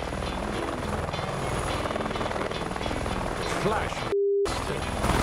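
A helicopter thuds close and loud as it sets down on a croquet lawn, the rotor drone steady throughout, with a brief beep and a voice speaking over it.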